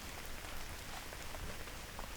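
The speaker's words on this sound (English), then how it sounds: "Hey, it's starting to rain, isn't it?" Rain begins to fall outdoors, a soft steady patter of drops on surfaces continuing evenly and fairly quietly, with no talking.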